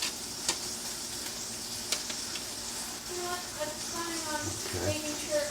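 Bacon fries in heating cooking oil with a steady, soft sizzling hiss and scattered small pops and ticks. Quiet kitchen handling noises sit alongside, and a voice murmurs faintly near the end.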